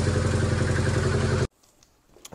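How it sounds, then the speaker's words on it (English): A small Kubota T1600 diesel engine runs with a loud, even, rapid clattering putter close by, then abruptly cuts off, leaving faint background noise and a few light knocks. "we had the little Kubota engine here running for a little bit"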